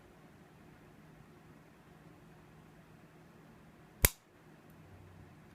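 A single sharp dry-fire click from the trigger break of a CZ 75 P-01 pistol, loud and close, standing alone against a quiet room hum.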